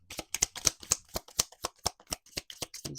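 Tarot cards are shuffled up close, producing a steady series of crisp riffling snaps in a fairly even rhythm, each one a short sharp slap of card stock.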